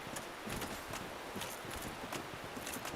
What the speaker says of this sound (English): I can hear footsteps behind me.